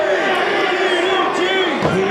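A wrestling crowd at an indie show in Hialeah, Florida, roars and cheers loudly and continuously, with a voice calling over the din and scattered whoops.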